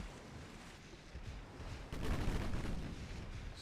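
Torpedo hits explode against a ship in a naval battle video game. A dense, rumbling roar builds and then swells into a heavier burst of explosion that fills the clip, with no voices.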